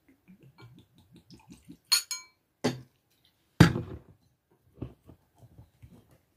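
A glass of mead set down and touched, giving a few sharp bright clinks and knocks spread irregularly among softer small taps and handling noises, close by in an otherwise quiet room.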